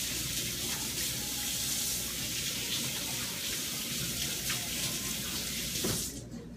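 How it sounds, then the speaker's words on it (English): Tap water runs steadily into a sink for hands being washed in a home kitchen during cooking, a continuous close hiss that cuts off abruptly near the end. "I'm going to go wash my hands and be right back"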